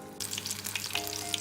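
Onion rings fry in hot oil in a pan, a dense crackling sizzle that switches on abruptly and holds steady and close, with faint bubbling pops and no voices.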